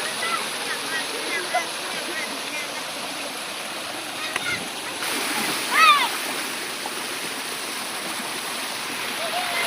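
River water in the normalized Kali Bojong gushes and splashes over a drop, a steady broad rushing wash close by with a brief louder splash partway through, while people talk over it.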